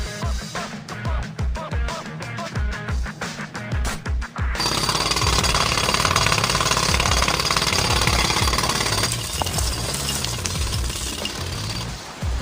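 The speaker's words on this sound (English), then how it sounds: "I need more time to finish hammering the hole!" Video game scene of a hole being hammered into a reservoir: rapid jackhammer-like pounding, first in choppy bursts, then a dense, loud, continuous mechanical rattle that eases slightly toward the end.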